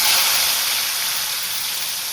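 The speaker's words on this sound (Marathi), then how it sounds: "गाईस, तेल आपलं तापलेलं आहे, तर याच्यामध्ये आता मी ॲड करते टमॅटो." Tomatoes dropped into hot oil for a kaleji fry, giving a loud, steady close-up sizzle and hiss that fades slightly over a couple of seconds, with no talk.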